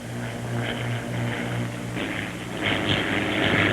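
A Bell P-39 fighter aircraft engine drones steadily in a dive, a close pulsing roar that swells louder and brighter toward the end as the dive steepens.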